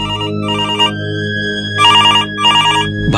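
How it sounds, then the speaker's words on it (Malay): A home telephone rings in a repeating pattern of short warbling bursts in pairs, loud and close, over a steady low background hum with no talking. "tiba-tiba kedengaran telefon rumah berbunyi"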